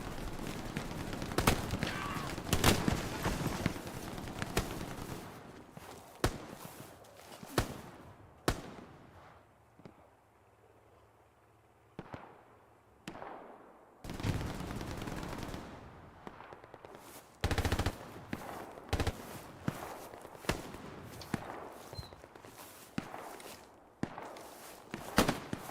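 Shotgun gunfire in the video game Hell Let Loose: a rapid series of sharp, loud blasts in irregular bursts over battlefield din, with footsteps and other distant shots between, and no talk.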